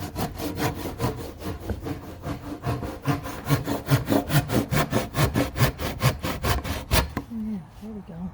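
A handsaw worked by hand through a butcher block countertop during an RV countertop replacement, fast, regular push-pull strokes rasping loudly and close for about seven seconds before stopping, followed by brief quiet talk.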